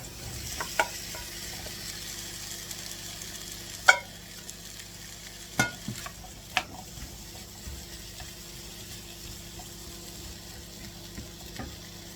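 Apple pieces fry in a pan with melted butter, giving a soft continuous sizzle with occasional scrapes and clicks of stirring, fairly quiet and steady.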